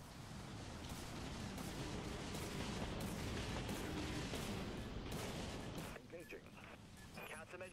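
Broadside ballistic guns firing in the naval combat game Dreadnought, a dense, continuous barrage of booming, rumbling shots that fills the scene loudly, then thins into scattered blasts near the end, with no voices over it.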